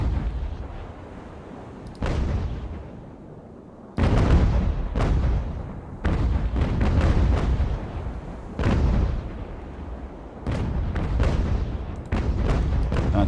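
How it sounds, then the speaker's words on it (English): Sailing-ship cannons firing canister shot in the naval game Ultimate Admiral: Age of Sail, a series of heavy booming broadsides every couple of seconds, loud and rumbling with overlapping reports. "See if we can do something with canister fire across his stern."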